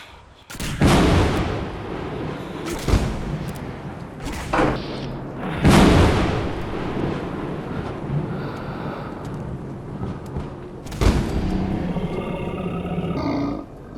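A lightning-infused revolver fires in Fallout 4, several loud booming shots with crackling electric tails, spaced irregularly over about fourteen seconds, with rumbling roars between blasts.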